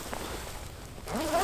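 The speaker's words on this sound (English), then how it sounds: "And this is a two-way zipper" A two-way zipper on a Helikon-Tex Covert M-65 jacket is drawn open near the collar, a close, soft rasp of teeth that sharpens into a brighter, louder pull toward the end.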